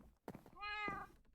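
A calico cat in the video game Minecraft meows once, close and clear, in a single drawn-out call over quiet background sound.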